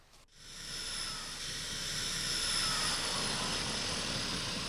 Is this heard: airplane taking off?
yes